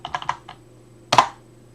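A few quick keystrokes on a computer keyboard, a short run of light clicks followed by a louder, denser burst of typing, close and fairly quiet with no talk.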